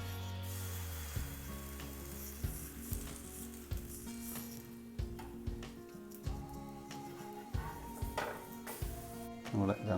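Egg-dipped bread slices fry in a pan with a soft, steady sizzle, broken by occasional clicks and knocks of utensils against the pan, while a person talks quietly over the cooking.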